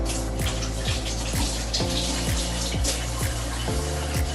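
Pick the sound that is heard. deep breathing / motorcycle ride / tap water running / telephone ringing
tap water running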